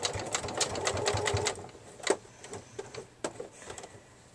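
A sewing machine runs a quick rapid stitch burst on a canvas neck pouch, then gives a few separate slow clicks while back tacking, close and fairly quiet.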